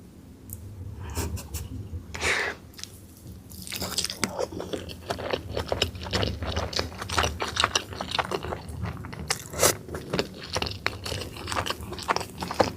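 Someone eating chicken with nasi padang, with crunchy bites and chewing close to the mic, mixed with rustling and handling noises and talk in between.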